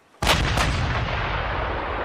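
Cannon fire rings out in a pirate ship battle, a loud close blast with a quick second report, then a long rumbling roll that fades slowly.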